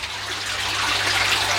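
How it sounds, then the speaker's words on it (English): Water runs steadily into a pond filter house being rebuilt, a continuous close trickling gush with debris carried along, the flow growing slightly louder over a brief stretch and no voices over it. "So we've got water coming in, which is all good, with a bit of rubbish as well"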